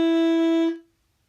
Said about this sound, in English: C sharp, would sound like this.